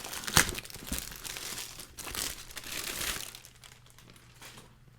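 Packaging bag of a Native Union Stow organizer crinkling and tearing open close up, a sharp rip near the start followed by several seconds of rustling, crumpling plastic that fades to quieter handling.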